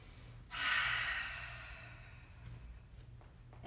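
A single soft breath during a chair yoga session, a gentle exhale that swells and slowly fades, close and quiet over a low background hum.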